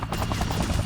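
Helicopter in the Dead Rising Deluxe Remaster video game, a steady loud rotor chop with thumping rhythmic beats filling the whole second, mixed with dense game noise.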